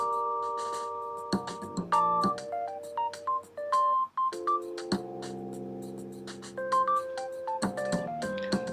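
Keypad tones on a Galaxy Note 3 as a service code is entered: a rapid series of short, clean beeps at varying pitches, some held longer, with brief pauses between bursts and no speech.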